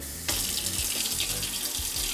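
A kitchen sensor tap switches on abruptly and runs in a steady, close stream into the sink, with faint splashing changes as the flow continues. No voices can be heard.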